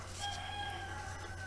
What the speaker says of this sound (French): Et le coq chante.